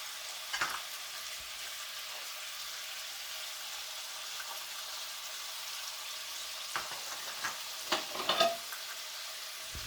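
Chicken sizzles in a skillet over medium-high heat, a soft, even frying hiss with a few brief scrapes and clinks now and then, and no voices.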